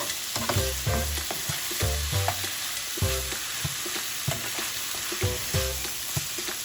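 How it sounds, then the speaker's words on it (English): Ground taco meat sizzles and fries steadily in a heavy skillet, with repeated scraping and clattering strokes of a utensil stirring it at close range, no voices. "So we are going to stir this occasionally just to get all of that meat evenly cooked"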